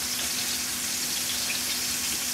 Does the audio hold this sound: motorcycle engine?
no